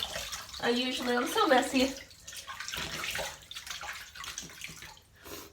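Tap water runs and splashes as a face is rinsed at a sink, a steady close wash with intermittent splashing, while someone speaks briefly over it.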